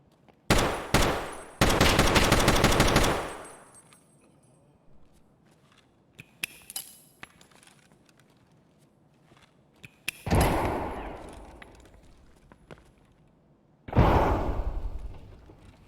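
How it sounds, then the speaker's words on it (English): Loud gunfire in a PvP shooter video game fight: a rapid automatic burst up close, then scattered single shots and a second long burst, with a final sharp volley at the end. "We took the fight with the first opponent and landed some good centre mass shots and took him down."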